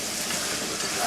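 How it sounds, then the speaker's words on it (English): Food sautéing in a pan makes a brief, even sizzle with a soft hiss and light crackle, close and unbroken for about a second. "So we're gonna let it saute in there for maybe 5 minutes"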